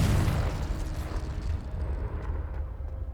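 A Confringo blasting spell in Hogwarts Legacy explodes in one loud, rumbling blast that slowly fades over a few seconds, with no talking.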